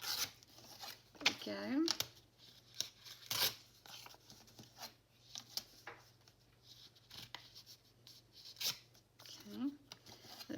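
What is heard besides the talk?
tearing a paper page for a junk journal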